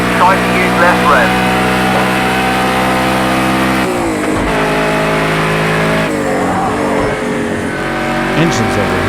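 An overheating race car engine revs in Project Cars 2, a steady loud droning whine with harmonic pitch shifts as revs drop and climb, a voice talking over it.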